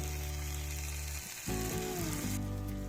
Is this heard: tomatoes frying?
yes